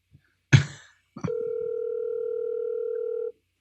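A telephone dial tone during a call: a short knock and rustle, then a steady, loud pure tone that holds for about two seconds and cuts off cleanly, no talk.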